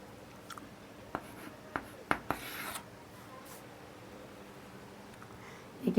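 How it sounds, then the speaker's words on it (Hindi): Writing by hand on a board during a quadrilateral lesson, heard as faint scratchy strokes and a few sharp taps spread across the stretch, set against a quiet room with no talking. "एक यहाँ पर लिख देती हूँ"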